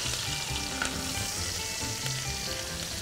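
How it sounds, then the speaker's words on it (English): Butter melts and sizzles in a pan beside a Pyrenees baby lamb shoulder, a steady close crackle and hiss with small pops, under a low fire and with no voices. "You melt the butter"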